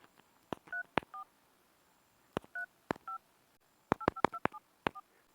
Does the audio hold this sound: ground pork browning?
no